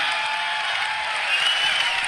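An audience cheers and applauds at a Steve Jobs keynote, a steady wash of crowd noise that holds at an even level for a couple of seconds with no break.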